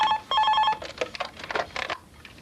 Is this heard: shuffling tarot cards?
no